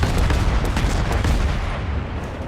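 Warship naval gunfire in World of Warships: heavy booming cannon shots in quick succession, loud and rumbling, with no voices over it.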